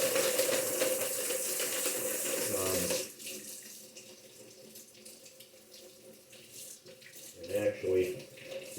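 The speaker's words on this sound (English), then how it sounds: "let me wash my hands here real quick." A kitchen tap runs steadily into a sink for hands being washed before preparing shrimp scampi, a loud broadband gush that stops abruptly, leaving quieter handling sounds, low voices and a brief clatter near the end.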